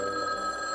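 A telephone rings in the video game Garfield's Babes And Bullets, a steady sustained electronic bell tone, clear and even with no other sounds.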